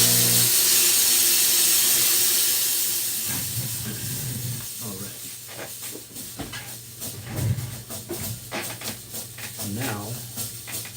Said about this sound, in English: So let me go steam this real quick.